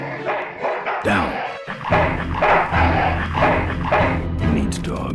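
Dog barks from the Full Throttle Remastered video game, several rapid yelps and barks at moderate loudness, layered over game music and other background sound.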